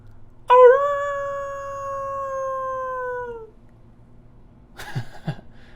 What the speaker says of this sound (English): wolf sound